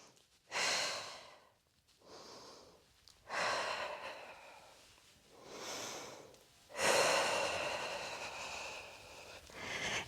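Slow, deep breaths during a Pilates workout, four long audible exhalations and inhalations spaced a few seconds apart, close and clear with no talking.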